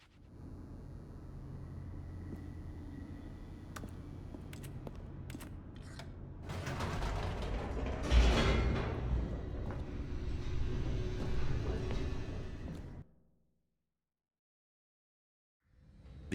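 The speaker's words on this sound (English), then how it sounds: "The elevator raced downward," Elevator machinery descending in the game The Stanley Parable: a low mechanical rumble with clanks builds into a louder grinding roar, then cuts off to near silence before a final thump.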